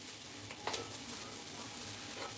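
Samosa filling sizzles in a pan while being stirred continuously, a steady soft frying hiss with a few scraping strokes, heard fairly close and quiet.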